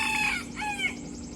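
Rooster on a farm crowing, two quick harmonic calls close by and fairly loud, over a low steady hum, no one speaking.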